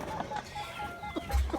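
A Silkie hen near a nest of newly hatched chicks and duck eggs gives a few soft, short clucks, spaced out and close by, with a low thump partway through.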